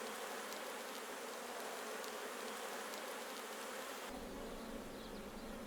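A honeybee swarm hums steadily in a dense, unbroken drone, the buzzing of many insects blended into a continuous wash that holds at an even level throughout.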